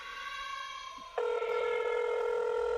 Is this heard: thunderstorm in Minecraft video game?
no